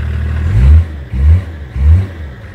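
BMW M51 325 TDS diesel engine fitted with a new silencer, revved three times in quick succession, each a brief deep swell over a rough clattering idle, close and loud.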